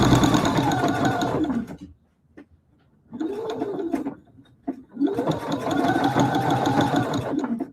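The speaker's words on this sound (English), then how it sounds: "we just did a little back stitch" A sewing machine runs a back stitch through denim in loud whirring bursts, a long run, a brief pause with a few clicks, then a shorter run and another long run.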